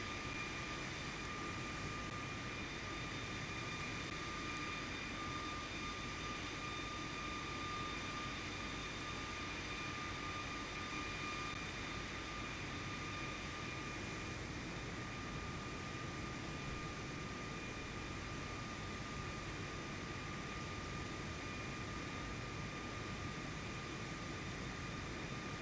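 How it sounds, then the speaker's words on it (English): An airplane engine drones on in flight in Microsoft Flight Simulator 2024, a steady, unbroken hum with faint tonal whine, even and continuous throughout with no talking. "So chill just watching a plane fly."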